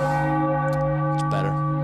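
A deep, resonant church-style bell sound effect rings out steadily from a stream deck, loud and sustained with long humming overtones, a brief rustle partway through.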